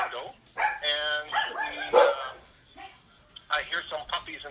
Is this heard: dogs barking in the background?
yes